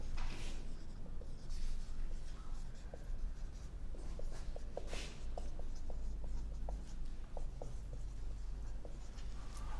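A board is written on during a maths lesson, giving a run of light, quick ticks and scratches, faint and steady, with no talking.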